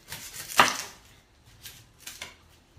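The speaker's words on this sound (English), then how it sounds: "so now I'm going to chop the onion" An onion is chopped with a knife in a home kitchen, giving a few sharp, separate cuts against a board, one loud and close and later ones quieter.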